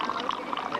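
Volunteers at a marathon water station pour water into cups in a busy, continuous splashing stream, with voices talking close by.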